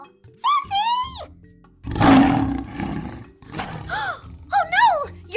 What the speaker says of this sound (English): That lion is so cool!